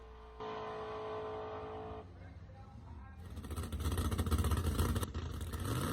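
Drag race car on a qualifying run: a strained mechanical tone gives way after a short drop to a loud, rising roar that swells and holds, then eases slightly at the end, heard from a distance.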